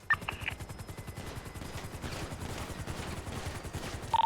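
Rapid automatic gunfire in a GTA NoPixel roleplay firefight rattles on in a steady stream of quick, evenly spaced shots. It stays fairly faint and distant throughout, with a few sharper bursts near the end.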